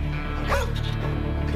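A dog on a frozen mountain rescue gives a short, yelping bark or whimper amid steady wind and movement noise, heard once near the middle of a brief moment.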